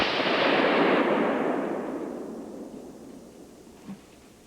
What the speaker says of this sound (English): I had to shoot to my right rear and I had to shoot fast